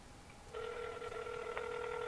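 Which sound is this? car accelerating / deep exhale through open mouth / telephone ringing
telephone ringing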